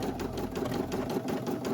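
Single-needle embroidery machine stitching a hat held in a hat hoop, a fast, steady, rhythmic needle clatter and whir up close, running continuously with no talking.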